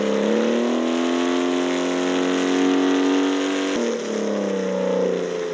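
A car engine drones in a driving video game, a steady, tonal hum at constant revs that drops briefly, then settles back at a slightly lower pitch.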